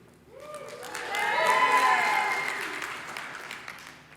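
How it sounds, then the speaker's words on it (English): An audience in a room at a business talk breaks into clapping and cheering, the applause swelling over a second, holding steady, then slowly fading after about four seconds. "those of you who clapped and cheered"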